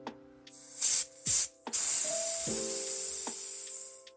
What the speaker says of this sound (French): Alors, dans un premier temps, on va vider le briquet.